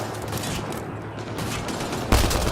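Sustained rapid gunfire in Mass Effect rattles on for a couple of seconds, dense and loud, with a sharper burst near the end.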